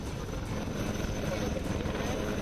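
An Indian Army Aviation helicopter that carries 14 passengers gives a steady, dense rotor and engine drone, loud and continuous without a break.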